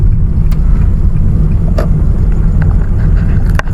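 A vehicle engine rumbles steadily and loudly in low gear while descending a steep road, with constant low droning and wind buffeting throughout and no one talking.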